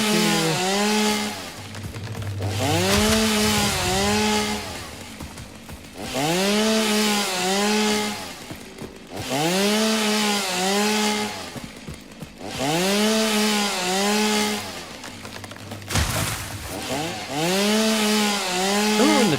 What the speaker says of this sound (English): Remember when the chainsaw used to actually remove rocks?